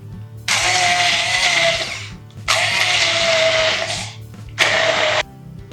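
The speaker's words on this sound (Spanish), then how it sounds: "Ponemos las verduras en un vaso batidor y trituramos y rectificamos de sabor" Countertop blender pureeing cooked vegetables for a beetroot cream, three loud whirring bursts with short pauses between them, close up and without speech.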